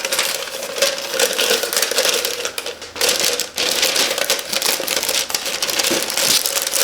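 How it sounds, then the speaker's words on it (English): Shrink wrap crinkles and crackles loudly up close as a glass beer mug is slid inside it, a dense continuous rustle with a couple of brief pauses and no talking. "Then we can put our glass inside the shrink wrap"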